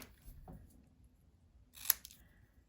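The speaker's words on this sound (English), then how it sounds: "Cut these apart." Scissors make two quiet, separate snips while cutting apart pieces of paper card on a craft table, the second snip crisper and sharper than the first.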